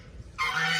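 A goose at a rural farmhouse in China lets out a single short honk partway through, clear against a quiet background.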